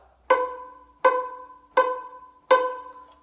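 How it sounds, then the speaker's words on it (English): Four evenly spaced plucked violin notes on B, played pizzicato on the A string as quarter notes, each a sharp close pluck decaying quickly, alone in a quiet room. "Pizzicato, let's try a measure of quarter notes on B."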